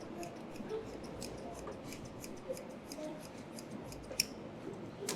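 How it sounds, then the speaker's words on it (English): Hand scissors snip at the pile of a hand-made carpet at an Egyptian carpet school, a quick run of crisp close cuts over low room murmur. "the teacher comes and cuts it by hand scissors to be clear"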